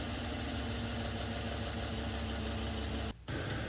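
A car engine idles steadily and loudly up close, holding an even, throbbing hum that breaks off for a split second near the end before carrying on.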